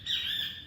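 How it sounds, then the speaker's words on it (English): A single bird chirps in a short, clear call close by, briefly interrupting a quiet indoor setting. "really? A bird?"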